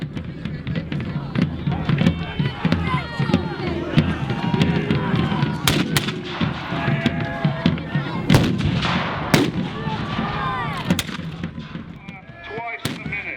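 Repeated flintlock musket volleys and sharp shots ring out across a field at an English Civil War battle reenactment, dense and loud with overlapping cracks and booms over a constant murmur of crowd and voices.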